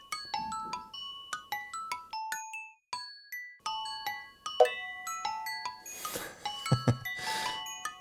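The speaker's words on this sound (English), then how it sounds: "That was the cowbells." Bright cowbell note blocks in Minecraft ring out in quick, clear chord hits mixed with other chiming blocks, a steady pattern of short, tinkling strikes with a shimmering wash near the end, no talk.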